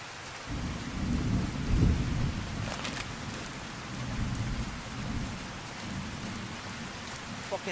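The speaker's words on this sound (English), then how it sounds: "Are we raining? We're raining." Steady rain patters over a deep, rolling rumble of thunder in the video game Fallout: New Vegas, swelling and fading, a continuous stormy wash with brief crackles.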